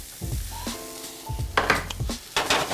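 Quinoa hits a hot, oiled pan with spices and sizzles in bursts as a utensil stirs it, with a few scraping clatters against the pan, close and fairly loud with no talking.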